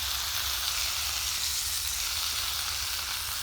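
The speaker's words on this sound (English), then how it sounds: "Just started cooking my meat. Got the fire going underneath." Meat sizzles and fries steadily over an open campfire in the woods at night, a continuous close hiss with no breaks and no talking.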